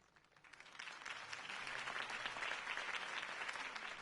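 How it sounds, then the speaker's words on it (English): A crowd applauds at a political campaign rally in the Batman Telltale video game, the clapping swelling from faint to a steady, moderately distant ovation. "If only Mr. Wayne, my campaign's largest backer, could have heard that applause"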